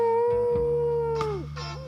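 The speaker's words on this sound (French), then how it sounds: "Tiens, un coyote." A cartoon coyote gives a long, sustained, wavering howl that bends and drops near the end, loud and close against a low background drone, with no talking.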